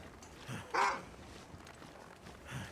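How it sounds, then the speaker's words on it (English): In The Long Dark, a wolf gives a short, sharp growl-like snarl in the middle of a quiet outdoor scene, with softer faint vocal bursts before and after. "He's going to growl at me again."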